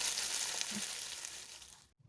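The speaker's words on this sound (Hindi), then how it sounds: "और प्याज को हमने गोल्डन ब्राउन करना है।" Three large chopped onions being browned in a pan, giving a steady close frying hiss that fades and cuts off near the end.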